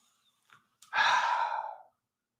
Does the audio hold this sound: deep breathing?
yes